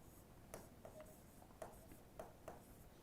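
Marker or chalk strokes on a classroom board, a handful of short scratchy squeaks spaced unevenly across a few seconds, faint and close with no talking.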